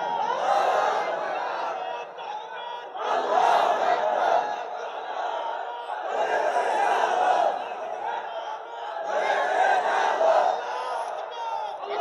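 Large crowd at an Islamic religious gathering (mahfil) shouting takbir in unison, loud repeated bursts of massed voices rising and falling in waves, about four surges over several seconds.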